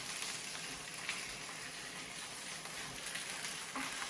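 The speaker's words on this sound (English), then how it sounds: "You can hear when I push down, they sizzle" Pork chops searing in a hot pan give a steady, dense sizzle with small pops and crackles, close and continuous with no voices.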